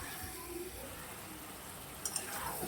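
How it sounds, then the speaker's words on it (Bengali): Mutton pieces fry on a high gas flame, a soft steady sizzle and faint stirring scrapes close by, with a couple of brief clinks near the end. "গ্যাসের ফ্লেমটাকে হাই রেখে কষিয়ে নিতে হবে।"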